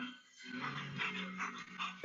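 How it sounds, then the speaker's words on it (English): An Old English Sheepdog named Finn makes soft whimpering, breathy vocal sounds up close, brief and low in level, with no talk over it. "He's an old English sheepdog."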